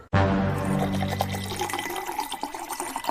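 Liquor from a bottle poured after it is opened: a sharp onset, then a steady gurgling, splashing stream of liquid that continues loudly and close up with a bubbling, uneven texture.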